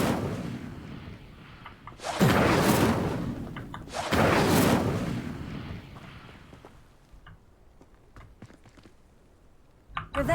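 Spells cast in the Hogwarts Legacy video game: two loud booming bursts about two seconds apart, each trailing off, followed by quieter scattered clicks and light footstep-like taps.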